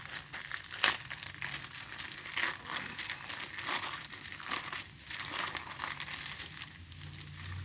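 Plastic packaging around a Pro Wrestling Illustrated magazine being torn and crumpled open, close crinkling and ripping in irregular bursts with brief pauses, no voices.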